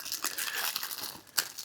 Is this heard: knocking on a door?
no